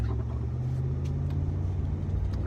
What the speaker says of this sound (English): I'm driving through a little suburb right now.